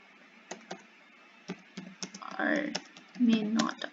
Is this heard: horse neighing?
no